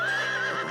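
Cartoon horse belonging to Sultan Sheikh Ajibuddin, giving a single loud, close, high wavering whinny that fades at the end, with no talking over it.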